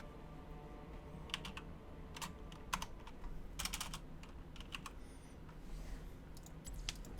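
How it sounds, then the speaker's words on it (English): Typing on a computer keyboard during a Heroes of the Storm session: quiet, close clusters of rapid key clicks in irregular bursts over a low background hum. "Why am I not just typing his name in?"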